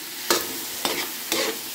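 Garlic, onion, ginger, a bird's eye chili and eggplant sizzle in a hot pan for a Filipino coconut-milk fish stew. Three sharp bursts of frying come as the pan is stirred, over a steady hiss with no talking.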